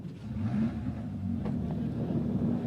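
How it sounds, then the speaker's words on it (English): Ferrari 296 Challenge race cars start up their engines for a race at Watkins Glen, a steady low rumble of several machines idling together, fairly loud and continuous, with little talk. "drivers, start your Ferrari engines"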